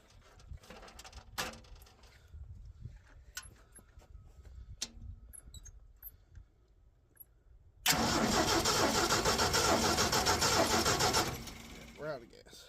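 An Asplundh JEY wood chipper engine cranks and roars loudly for a few seconds, then drops away, after a stretch of quiet clicks and people talking nearby.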